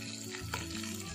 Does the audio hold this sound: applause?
no